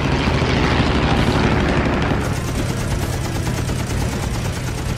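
A P-51 Mustang's six machine guns firing in a dense, continuous roar, loud and steady, over aircraft engine drone, with the firing tone shifting partway through and no talk over it.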